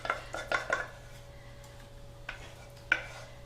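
Metal utensil scraping caramel from a pan in a home kitchen, a few quick scrapes and clinks in a cluster, then two isolated scrapes, fairly close over a low steady hum.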